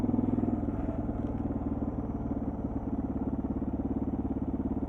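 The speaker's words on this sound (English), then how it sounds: "Oh my god, my bike is loud." Loud motorbike engine running steadily up close, a constant low rumbling throb with a fast pulsing beat and no pauses.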